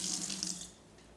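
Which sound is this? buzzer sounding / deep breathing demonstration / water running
water running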